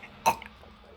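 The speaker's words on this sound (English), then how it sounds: "That was like a hiccup without actually doing a hiccup." A single short hiccup-like throat sound, abrupt and close, pops once over a quiet room and fades at once.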